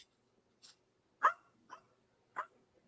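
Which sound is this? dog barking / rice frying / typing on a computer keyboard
dog barking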